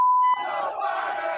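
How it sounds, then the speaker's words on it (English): A crowd chanting together, loud and massed, rising right after a short steady beep tone at the start. "you can hear the chants from the crowd"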